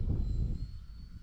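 An E-flite Valiant RC model airplane flies overhead, its electric motor giving a steady high whine over low rumbling, and the sound thins slightly as the plane moves away.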